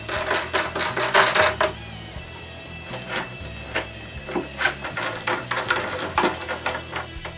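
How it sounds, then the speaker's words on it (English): Nuts being tightened on T-bolts in a drill press table, a rapid series of close metallic ratcheting clicks and taps, busy at first and then settling into a steadier rhythmic clicking. "I tighten the nuts."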